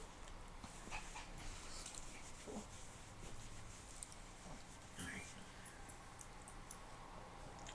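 A dog named Smeagol pants and whimpers softly near the microphone over several seconds, with faint background noise throughout.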